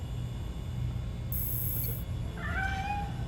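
A cat in the video game Gotham Knights gives a short, fairly faint meow near the end, over a low steady ambient hum.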